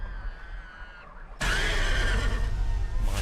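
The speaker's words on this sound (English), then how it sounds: "The horse is absolutely legging it." A horse whinnies loudly and close for about two seconds, the call rising sharply out of a quieter stretch and holding strong to the end.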